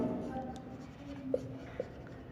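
Marker or chalk scratching on a board during a physics lesson, with a soft steady stroke and a few brief taps, close and moderately quiet.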